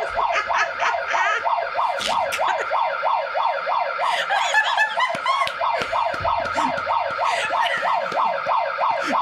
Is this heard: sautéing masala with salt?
no